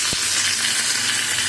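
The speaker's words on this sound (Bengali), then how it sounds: "তেল গরম হয়ে গেছে, শুকনো লঙ্কা দিয়ে দিচ্ছি, কারি পাতা দিয়ে দিচ্ছি" Dried red chillies and curry leaves sizzle in hot mustard oil for a chutney, a loud, close, steady frying hiss with one brief clack near the start.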